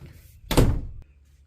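A single solid thunk as an RV door is pinned shut, a short loud impact with brief rattle, followed by a faint click and quiet room.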